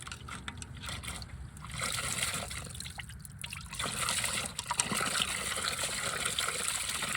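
Fluid trickling and draining from an old John Deere 4010 tractor that had sat unused for years, a steady close liquid dribble running throughout.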